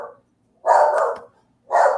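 A pit bull barks loudly and close by, with two separate bursts: a longer bark followed by a short pause and then another, with no other sound between.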